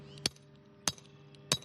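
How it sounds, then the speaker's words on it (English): Three sharp metallic hammer strikes driving flag pins into the ground, evenly spaced about half a second apart, close and distinct over a faint steady background hum. "volunteers are loading these flags onto trucks and hammering pins into the ground"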